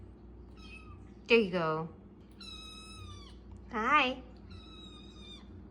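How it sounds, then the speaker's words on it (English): A talkative pet cat lets out two loud, drawn-out meows a couple of seconds apart, close to the microphone, while someone speaks softly to it in between. "She is currently my most talkative cat."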